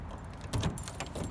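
Keys jangle briefly and close by as a truck is opened up, a short metallic rattle over a steady low background hum.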